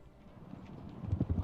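Horse hooves clopping in the medieval video game Kingdom Come: Deliverance, a quick run of soft thuds that grows louder and denser toward the end, heard alone.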